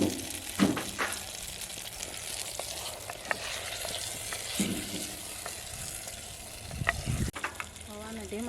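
Green onion cooking over low heat in a pan, giving a steady soft sizzle and frying crackle with a few louder clinks and stirring knocks scattered throughout.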